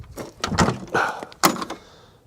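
Sticking door of a GMC semi truck used in Knight Rider being worked open, a run of heavy thunks and scraping knocks in uneven bursts, close and fairly loud, with no talk.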